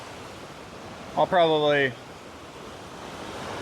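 Steady, broadband rush of river water flows evenly throughout, with a short stretch of a voice speaking briefly over it.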